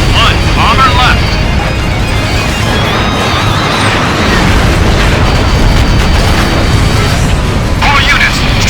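Heavy booming bomb explosions in the aerial combat game Ace Combat Infinity, a sustained loud rumble with crackling bursts, under radio chatter and jet noise.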